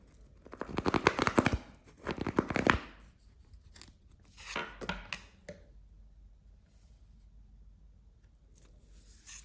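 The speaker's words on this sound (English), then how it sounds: "I love the sound of the handmade cards, that very light, very airy" Handmade Visconti Homage tarot cards shuffled by hand, giving light, airy papery riffles and flutters in a few close bursts, louder at first and then softer, with no talk.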